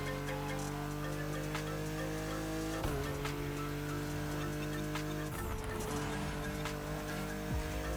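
Loud, continuous engine roar from a car drifting in the video game The Crew Motorfest, with tire squeal and sharp shifts in pitch as it slides, filling the whole stretch without speech.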